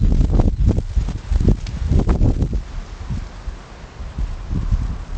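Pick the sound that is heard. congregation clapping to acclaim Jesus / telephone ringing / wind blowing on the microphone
wind blowing on the microphone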